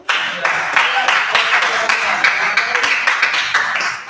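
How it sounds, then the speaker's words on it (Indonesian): Classroom applause: a group of students claps together, a dense, bright patter of hand claps lasting a few seconds, fairly close and loud. "Aplaus dulu."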